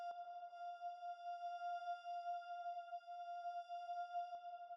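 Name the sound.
synth pad made with Ableton Operator, high string note F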